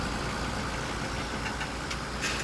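Steady, continuous drone of a two-wheel-drive tractor engine idling in Farming Simulator 17, a low rumbling hum that holds level throughout with a few faint higher clicks near the end.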